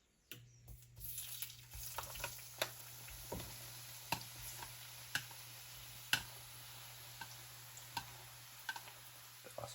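Shrimp for quesadillas fry quietly in a pan, a faint soft sizzle broken by scattered small pops and ticks at an irregular rhythm, with no voices.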